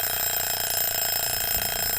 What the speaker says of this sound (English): Well, that's my egg timer.